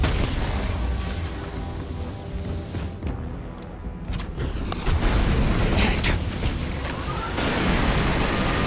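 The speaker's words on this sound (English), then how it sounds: "watching those explosion procs go off" Repeated explosion procs in the video game Starfield: Shattered Space, a loud continuous wash of booming blasts and rumble with a few sharper bursts layered on top, filling the whole stretch.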